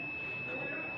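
A satellite finder meter on a dish emits a continuous, steady high-pitched beep tone as the dish picks up signal, holding level for the whole moment with soft background noise.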